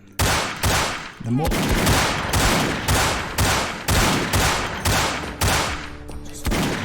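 Rapid bursts of gunfire from Vampire the Masquerade Bloodlines, a dozen loud sharp shots in a fairly steady rhythm with brief gaps, close and dominant, with a short spoken word near the start.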